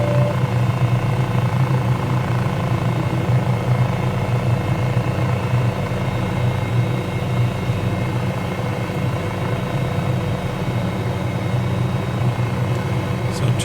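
Cowan Simulation 500E helicopter in Microsoft Flight Simulator approaching a landing at Manila Bay, a steady loud rotor and turbine drone with constant low thumping that holds throughout without pause.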